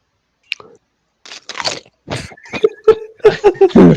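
Doritos are chewed loudly and close into a microphone, a run of sharp crunchy bites and squishy chewing that grows denser and louder toward the end.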